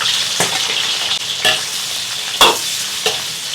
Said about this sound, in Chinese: 葱姜蒜爆香